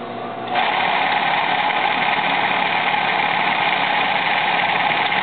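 A sewing machine runs steadily, stitching a men's trouser front pocket close to the edge, a loud continuous whirring hum that starts after a brief softer moment and holds evenly throughout.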